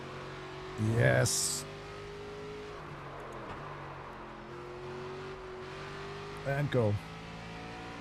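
A race car engine in the NASCAR 25 video game hums steadily on throttle, a droning tone holding with gradual pitch shifts, while a voice speaks briefly over it twice.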